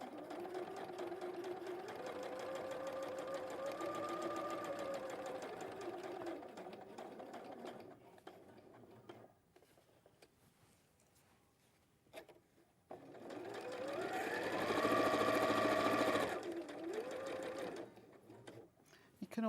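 A sewing machine runs in steady stitching bursts, sewing a quarter-inch seam allowance during a live sewing demonstration; the whirring hum rises and falls between pauses, close and moderately loud, with a person talking over it.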